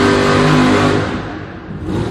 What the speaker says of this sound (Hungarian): jön egy igazi V8-as szörny, egy Z28-as Chevy Camaro